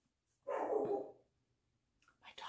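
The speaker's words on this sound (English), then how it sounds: "dogs are barking at everything this morning" A small dog named Bailey barks in one fairly loud, drawn-out burst indoors, followed by quieter yips and rustling after a short pause.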